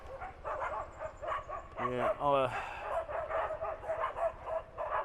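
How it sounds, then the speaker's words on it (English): Several dogs bark and yelp in a noisy squabble on a street in Pattaya, with a sharp burst of rapid barks near the middle over steady traffic and street noise, while someone talks throughout. "They're having a bit of a ding-dong, those dogs."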